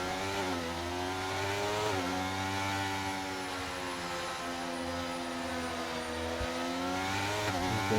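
Several race cars lap a track in a Formula 1 racing video game at the Mexico circuit, their engines a steady, loud, continuous whine that rises and falls in pitch as they pass and shift, with no talk over it.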